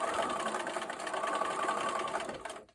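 A sewing machine stitches quilt seams for a star sampler block, its motor whirring in one steady, close run at an even speed until it stops abruptly at the end.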